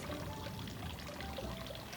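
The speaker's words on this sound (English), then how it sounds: "So I'm going to pour in my graham crackers." Graham crackers are poured into a food processor bowl as a continuous soft rustling, rattling pour lasting a couple of seconds, close and fairly quiet, with no talk.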